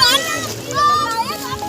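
Children splashing and playing in cold water, light splashes mixed with excited kids' voices and chatter, close and lively throughout.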